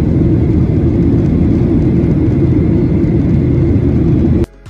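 Loud, steady low rumble of a Malaysian Airlines jet airliner during takeoff, heard from inside the cabin, a continuous roar that drops off abruptly in the last moments.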